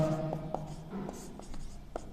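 Pen strokes on paper scratch in short, irregular bursts at close range, while someone talks over the writing.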